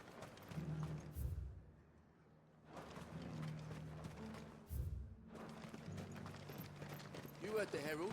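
Footsteps of three followers trailing the player in a video game, a scatter of soft thuds and clopping steps under background game sound, with a voice talking at points.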